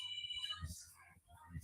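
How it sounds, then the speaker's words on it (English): A mobile phone rings with a faint electronic tone at the start, quickly buried under low rumbling and voices talking nearby. "my phone starts to ring right when I'm about to start the set"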